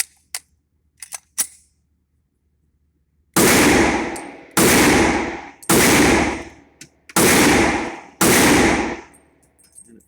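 A Smith & Wesson M&P pistol chambered in .357 SIG fires five loud, sharp shots at an uneven pace, each with a ringing decay. A few faint clicks come before the shots.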